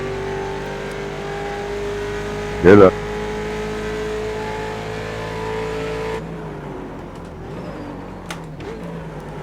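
Ford Mustang race car in the iRacing sim at Mid-Ohio, engine humming steadily under acceleration, then quieting partway through; a brief spoken greeting cuts in near the start.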